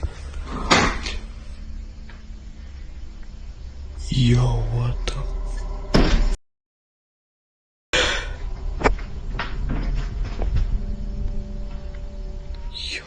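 A creaky attic door in a house opens and shuts by itself, giving a few wooden knocks and a rolling slide close by. A startled voice reacts briefly, and there is a short stretch of total silence partway through.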